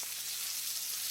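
Chicken frying in coconut oil for herbal fried chicken gives a steady, dense sizzle that holds evenly throughout, with no voices over it.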